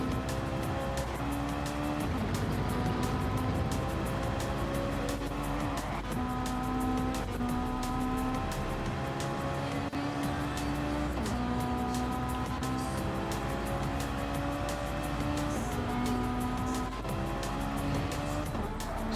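Race cars roaring around a track in Gran Turismo Sport during an online league qualifying session, engines droning steadily with repeated gear-change pitch steps and brief tire squeal, loud and continuous throughout.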